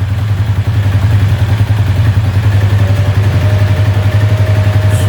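A motorcycle engine idles during carburettor air adjustment, a loud, even low throb with fast regular pulsing that holds steady throughout, close up and with no talk.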